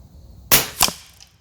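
A .25 Avenger air rifle fires two sharp, crisp cracks about a third of a second apart, each with a short decaying tail, at an outdoor 100-yard range with no talk.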